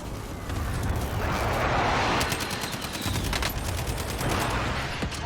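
A SCAR rifle in the video game Warzone fires in rapid bursts of sharp cracks that grow denser toward the middle, over a constant rumbling background.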